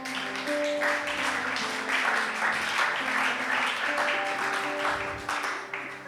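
Church congregation clapping and cheering during a Sunday service, a sustained dense wash of applause with steady loudness and faint held organ or keyboard tones underneath throughout.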